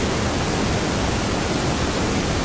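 Pink noise passed through the delay return of an EC300 unit, with the top end rolled off, giving a steady, loud, unbroken hiss that sounds dull and muffled.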